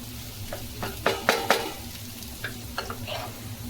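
Ghee mutton fry sizzles in a hot pan while a spoon stirs and scrapes it, with clustered metallic clinks and scrapes over a steady frying hiss.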